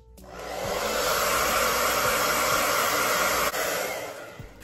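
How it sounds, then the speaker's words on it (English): A hair dryer blasts steadily at close range for a few seconds while blow-drying a wig, a constant loud airy whir from switch-on to the end, no talking. "All right, same thing, blow dry."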